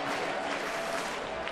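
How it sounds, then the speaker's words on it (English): Stadium crowd at a Yankees game in Toronto stirring as Mariano Rivera comes out of the bullpen for a pitching change, a steady broad roar of cheering and clapping that fills the whole moment without a break. "Mariano Rivera will come out of the bullpen, and you can hear the crowd react"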